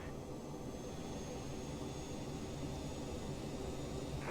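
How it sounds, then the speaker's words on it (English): A CRJ700 jet engine runs during startup in Microsoft Flight Simulator, a steady, even roar with a thin high whine that holds without a break. "Good engine start"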